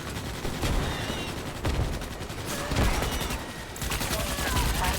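Rapid video game gunfire crackles in dense, sustained bursts for the full stretch, with short dips between volleys and a voice faintly audible beneath.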